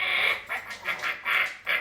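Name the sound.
player imitating a duck quack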